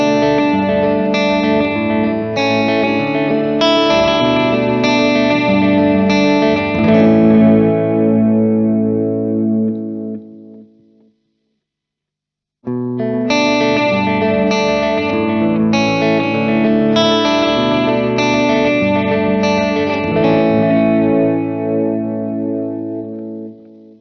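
Electric guitar played through a UAFX Starlight delay pedal with the color knob adding distortion; sustained, overdriven chords ring out with echoing repeats in two long phrases separated by a brief silence.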